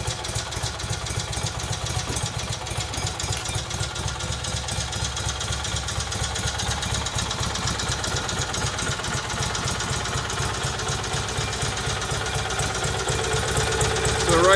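A Kohler Magnum M18 engine on a Cub Cadet 1882 garden tractor idles steadily, a continuous low mechanical rumble with a faint clatter, rising slightly in loudness toward the end, with no talk.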